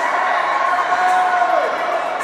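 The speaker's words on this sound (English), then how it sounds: "The crowd will just have their celebratory moment." A crowd cheers and celebrates after a female under-18 hockey championship win, a loud, sustained roar of voices with whoops and high shouts filling the arena, over faint talk.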